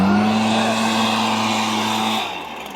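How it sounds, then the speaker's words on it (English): A gas-powered STIHL leaf blower runs at full throttle blowing polyballs into containers, a loud steady engine whine with a strong tone that drops off as the throttle releases near the end. "we're going to blow these polyballs into the containers just to show you a side-by-side of gas"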